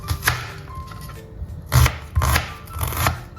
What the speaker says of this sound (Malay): So kita masuk ke dalam ni chopper. Dan kita potong bawang besar.